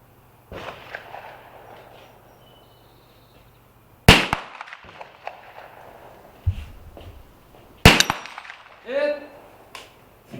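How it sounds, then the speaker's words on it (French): .22 rifle shots at steel targets, two sharp loud cracks several seconds apart, each followed by a ringing ping from the metal, with outdoor background noise and brief talk. "Le tir se fait sur des cibles d'acier comme celle-ci, aux distances que je vous ai dit."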